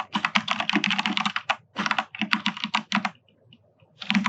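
Fingers type steadily on a computer keyboard, dense close-up key clatter in fast bursts separated by short pauses, with no voices over it.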